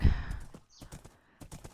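A horse galloping in a video game, rapid clip-clop hoofbeats in quick uneven bursts at moderate volume, fairly close, with no talking over them.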